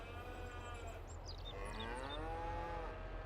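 Cattle moo in the Farming Simulator video game on a British farm map: one drawn-out, wavering moo rises and falls alone over a steady low ambient drone, with a few higher squeaky tones just before it.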